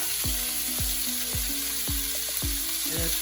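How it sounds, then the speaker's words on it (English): Chopped pork tenderloin sizzling steadily in hot oil in a pan, a continuous bright crackle with a repeated low knock every half second or so, like a utensil tapping the pan, no voices. "we're gonna throw in the pork tenderloin"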